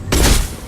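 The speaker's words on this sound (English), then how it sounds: "Taking heavy fire." A single heavy burst of gunfire in Mass Effect 2 during a krogan charge, loud and close, a sharp broadband blast that swells and decays with a rumbling low tail.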